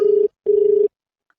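An outgoing phone call rings back with two steady electronic ring tones, the first about a quarter second and the second about half a second, separated by a short gap. Silence follows. No voices are heard.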